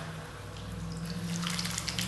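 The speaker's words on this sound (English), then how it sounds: "Add lots of water" Water splashes and trickles onto wet clay spinning on a pottery wheel, a steady close wash of liquid noise over the low hum of the wheel motor, growing slightly louder toward the end.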